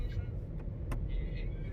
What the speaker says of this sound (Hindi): तो फाइनली अब मैं ड्राइव कर रहा हूँ